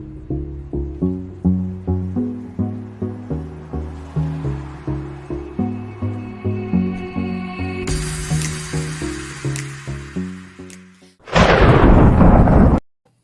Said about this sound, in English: I love the thunder intro